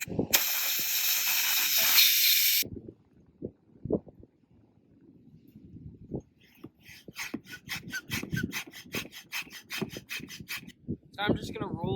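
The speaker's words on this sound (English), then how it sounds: "I'm just going to roll this up so that I can push all the air to that side and just get it fully deflated" Air hissing out of an inflatable paddleboard's valve during deflation, a loud steady rush at first, then quieter scattered rubbing, creaks and bursts of escaping air as the board is handled and rolled.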